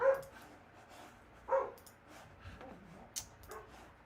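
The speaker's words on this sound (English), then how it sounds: "Oh my goodness, dogs, be quiet." Indoor dogs barking in a few separate bursts, sharp yips and a whimpery bark at moderate distance between quiet gaps.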